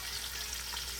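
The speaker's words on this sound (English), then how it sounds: "burn some of the seasoning in the oil for a little bit before we add the fish" Seasoning frying in hot oil in a pot for Jamaican steamed fish, a steady, even sizzle throughout with no talking.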